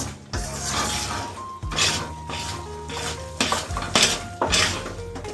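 A spoon stirs a milk mixture in a pan on a gas stove, giving repeated scraping strokes and metallic clinks against the pan in a steady rhythm, close and fairly loud.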